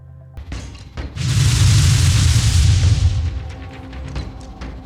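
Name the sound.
Gadfly RC-6 rockets launching and exploding in video game Phoenix Point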